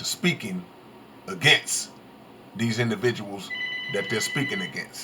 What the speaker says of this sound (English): Excuse the phone ring.